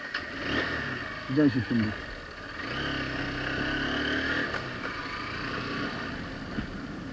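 A motorcycle engine at the start of a road trip from Siliguri to Berhampur, Murshidabad, with a moderate, steady running drone that rises a little as the ride begins, while someone speaks briefly over it.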